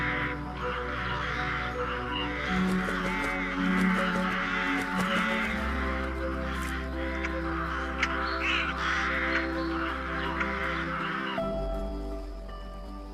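Rooks cawing repeatedly from a treetop colony high in tall branches, a dense overlapping chorus of harsh calls, loud and sustained throughout against a busy natural background.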